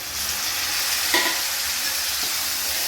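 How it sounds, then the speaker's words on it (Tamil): Onions, ginger, garlic and tomato sauté in a pan, giving a steady, dense sizzle with a couple of soft stirring scrapes partway through, close and alone without speech. "அதையும் சேர்த்து நல்லா வதக்குங்க."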